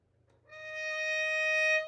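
A single violin note, D sharp, starts after a short pause and is then bowed and held steadily with a bright, even tone until it stops near the end. Close and clear, with no voices over it.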